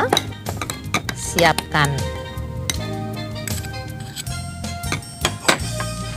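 Batter blended with rose paste is stirred in a bowl on an Indonesian TV cooking show, with light utensil clinks and scrapes against dishware running under steady talk.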